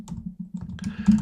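Fingers type on a computer keyboard while entering details in an online payment setup form, giving quick close clicks that speed into a brief flurry near the end.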